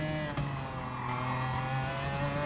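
A McLaren F1 GTR racing on the Sardegna Road Course in Gran Turismo Sport, its engine a sustained, fairly faint tonal whine with a brief dip and jolt early on, then holding steady.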